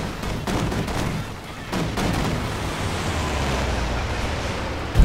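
A Sturmovik aircraft's strafing run in the video game Company of Heroes 2 comes as a dense roar of rapid gunfire and explosions, loud and continuous, with a heavy burst at the end.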